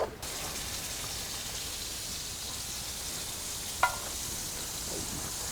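Butter sizzles in a pan for a lobster garlic butter, cooked outdoors on a beach, giving a steady hiss like light rain with a single sharp clack partway through.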